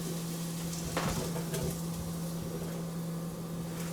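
Onions caramelizing in a Pampered Chef pan sizzle and crackle steadily, with a few louder scraping and stirring knocks near the start. A constant hum runs underneath, and there is no talking.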